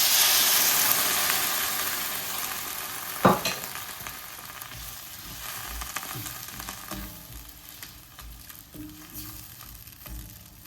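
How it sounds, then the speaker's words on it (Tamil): Carrot curry simmering in a pan with a broad frying sizzle that fades, a sharp clatter early on, then softer bubbling and occasional knocks as milk goes in. "இப்போ பால் விடுறோம்."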